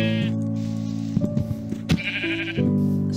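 A sheep in a survival video game bleats loudly and close, a couple of wavering cries with a short clatter between them.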